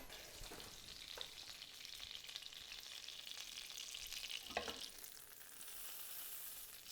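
A large slab of butter sizzling in a pan, a faint, steady hiss that runs the whole time, with a couple of brief louder crackles or scrapes partway through and no voices.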